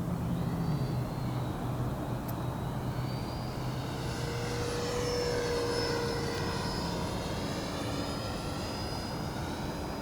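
An FMS 64mm Futura Sport model jet with flaps down makes a steady, continuous whine and whoosh as it passes by at a moderate distance, with a faint Doppler pitch sweep across the pass.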